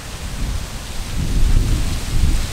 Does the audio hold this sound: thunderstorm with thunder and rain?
yes